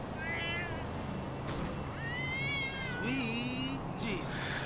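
A cat in the game GTA V meows several times in a row, high wavering cries close up over a low background hum.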